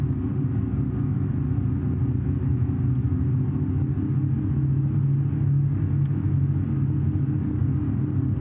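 A Canadair CL-215 aircraft comes in to land in BeamNG.drive, making a loud, steady low engine rumble that drones on without a break.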